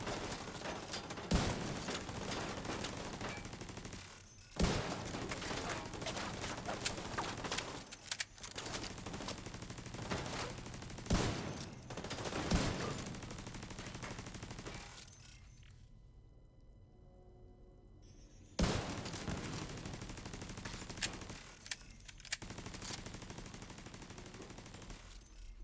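Rapid automatic gunfire from the video game The Division 2 rattles in loud repeated bursts, broken by short pauses and one near-silent gap before the shooting resumes.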